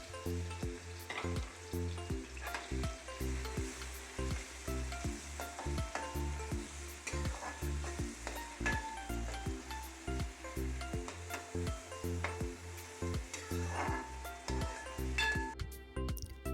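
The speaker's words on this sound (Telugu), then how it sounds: "ఆయిల్ని బాగా హీట్ అయిన తర్వాత కట్ చేసుకున్న ఆనియన్స్ అందులో యాడ్ చేసుకొని అవి బాగా ఫ్రై అయ్యేదాకా వేయించుకున్నాను." Chopped onions fry in well-heated oil for a homemade fish curry, giving a dense, continuous close sizzle with a steady rhythm of stirring scrapes and light clinks throughout.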